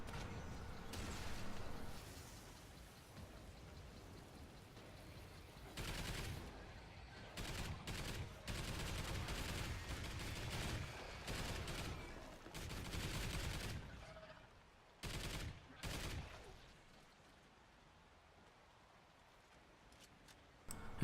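Automated sentry gun firing in the Mayday video game, dense bursts of rapid gunfire rattling on and off for long stretches with brief gaps, loud and close amid other game noise.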